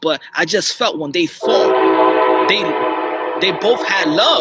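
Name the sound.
train passing outside, with horn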